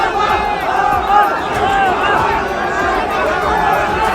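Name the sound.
large crowd gathered outside Lal Parade Ground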